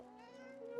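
A cat in the video game Divinity Original Sin 2 gives a single short, tonal meow, soft and close, lasting under a second.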